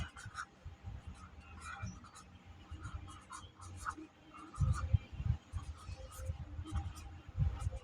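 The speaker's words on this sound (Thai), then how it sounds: "ใช้ปากกาแดงเขียนนะพี่น้อง" A red pen scratches across paper in short, irregular strokes, close and quiet, with low murmuring in the background.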